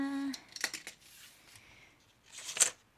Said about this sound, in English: Cut this off here.